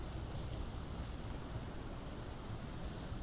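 Ocean waves wash in a steady, soft surf roar, distant and continuous, with a faint wind hiss and no voices.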